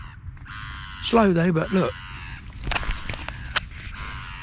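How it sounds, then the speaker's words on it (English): A seagull calls from overhead at a calm fishing spot, a loud wavering squawk over a steady hum, followed by a few sharp short cries, while someone speaks briefly. "other than the seagull up there who's berating me with his tunes"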